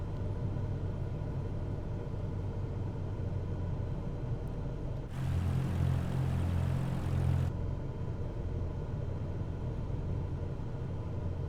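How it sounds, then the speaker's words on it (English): Propeller aircraft engine drone in Microsoft Flight Simulator 2024 during an instrument approach in low visibility, a steady low rumble that swells briefly in the middle as the throttle shifts, then settles back to an even hum. "Let's throttle down a little bit more."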